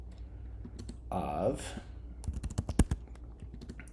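Typing on a computer keyboard during a statistics programming lecture, a quick run of sharp clicks and key taps following a stretch of speech, with talk heard early in the clip.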